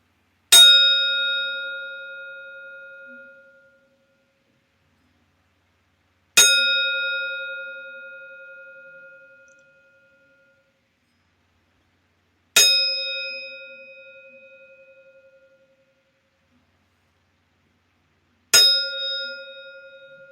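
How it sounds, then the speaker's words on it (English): A memorial five bell salute at a wrestling event, held for Road Warrior Animal and Kane Bentley: four clear, resonant bell strikes, evenly spaced about six seconds apart. Each one rings out alone and decays slowly into silence. "here comes the 5 bell salute for Road Warrior Animal and Kane Bentley"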